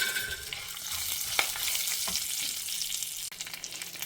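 Curry leaves and green chillies dropped into dal frying in hot oil, giving a steady close sizzle and crackle with a few sharper pops and stirring scrapes, no voices.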